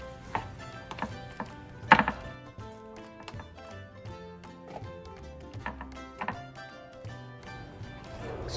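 A knife chops chicken pieces on a cutting board in a home kitchen, giving scattered sharp taps and thunks at an irregular pace, while soft background music plays underneath.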